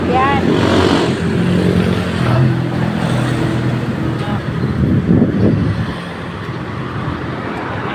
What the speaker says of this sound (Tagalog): May maraming sasakyan.